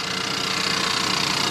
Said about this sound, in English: this is one of my favorite 2-liter engines. Sounds like a piece of junk right now